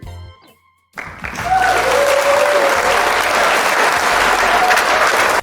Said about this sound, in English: We applaud you, Cory.